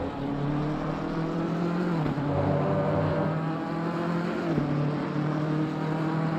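A GT3 race car in Assetto Corsa Competizione at the Nürburgring holds a loud, steady engine drone, pitch dipping briefly twice with gear changes or lifts, while other cars' engines blend into the background.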